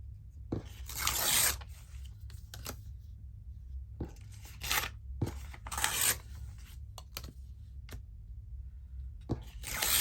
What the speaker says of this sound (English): I'm just going to tear the edges.